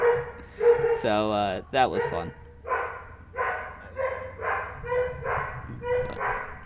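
Several dogs bark and yip in a repeated run of strained, whiny barks close by, while a person talks over them.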